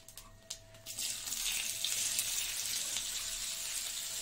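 Sliced onions drop into hot oil seasoned with five-spice (panch phoron) in a pan, bursting into a loud, steady sizzle that starts abruptly after a soft clatter and keeps hissing evenly close by, with no talking.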